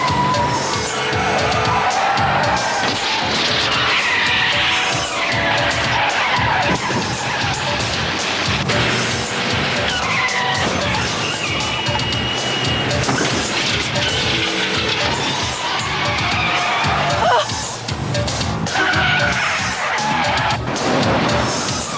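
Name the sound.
car accelerating and skidding in a chase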